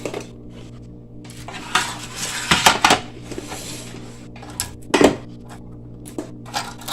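Freeze-dried candy pieces are tossed into a hard candy dish in uneven bursts, clattering and rattling against the bowl and each other at close range, with quieter gaps between throws and no talking.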